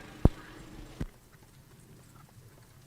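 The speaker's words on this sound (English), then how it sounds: "the last horses are just coming out" Two sharp, isolated hoof strikes from harness racing horses at a county track, a loud clop followed by a softer one under a second later, then quiet ambient noise.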